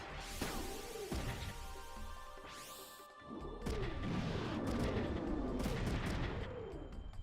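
A missile attack in the Front Mission 3 video game produces heavy, explosive bursts and a quick rising whoosh that overlap continuous game music, with no pause between the blasts.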